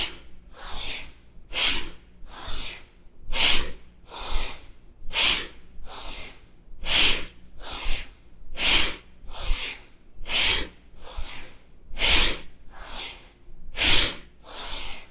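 Forceful rhythmic breathing during a kundalini yoga kriya, a steady series of about fifteen sharp, close breaths alternating inhale and exhale, loud and airy with no talk over them.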